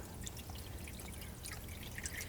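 Water pouring steadily into a baking dish holding ramekins for a water bath, a continuous close splashing stream that runs unbroken with no voices.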